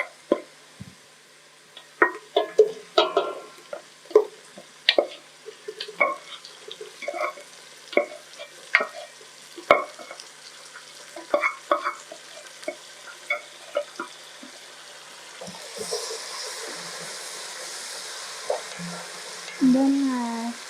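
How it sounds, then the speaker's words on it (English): Boiled beef frying and being stirred in a pot for pilau with garlic and ginger, with repeated scraping and clattering strokes over a soft sizzle that grows louder and hissier toward the end. "Now, at this point, we can add our beef."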